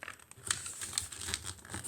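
Paper is folded into an origami sword in close, soft crinkling and creasing sounds, with a few sharper crisp rustles as the sheet is pressed down, and no voice.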